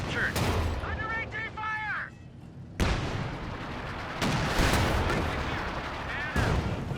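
Anti-tank gun shots in the Company of Heroes 2 video game, heavy booming reports mixed with other battle noise under steady commentary, with a couple of sharp distinct blasts standing out.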